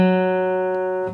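A single acoustic guitar open string tuned down a half step to G flat rings out alone, sustaining steadily with a rich set of even harmonics and fading only slightly over about a second.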